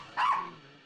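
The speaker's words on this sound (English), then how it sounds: "Her bark is very nervous." A single nervous bark from a small Maltese dog, short and sharp, fairly close, ending in a brief trailing tail.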